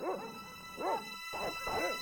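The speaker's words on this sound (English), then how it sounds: "Oh, there are dogs." Dogs in Broken Sword Reforged give three or four whining, yelping barks in a loose rhythm, faint and somewhat distant over a quiet background hum.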